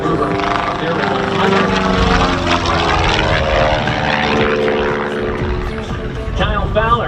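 A Long EZ home-built propeller plane flown in air-show aerobatics roars loudly overhead, its engine pitch sweeping and shifting as it maneuvers, a dense, sustained drone with a commentator's voice talking over it.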